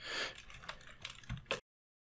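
Quick bursts of keystrokes on a computer keyboard while entering a Minecraft Bedrock Edition command, a close run of clicks ending abruptly, with no one speaking.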